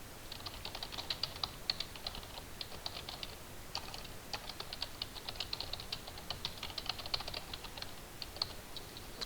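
Computer keyboard typing a sentence into a test description field on a tutorial website, with steady rapid keystrokes and brief pauses running throughout, close and clear with no talking.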